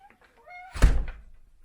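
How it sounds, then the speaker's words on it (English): A farm barn door swings shut with a single heavy, close thunk and a brief rattle that fades quickly, with a few faint sounds just before it. "close and lock the barn door, and everything's secure"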